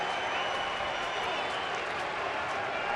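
Big baseball stadium crowd roaring steadily and cheering nonstop at a Phillies home game against the Nationals, dense, continuous crowd noise throughout with no single voice standing out.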